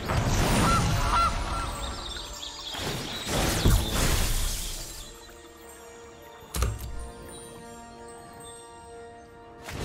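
Goose honk sound effect when a goose card is played in the Magic: The Gathering video game, loud repeated honking at the start amid layered game effects, then a sharp burst and quieter background tones.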